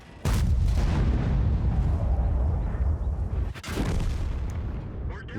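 Heavy tank cannon fire in World of Tanks, two loud booming blasts, one near the start and another past the middle, each followed by a long rumbling tail and battle noise.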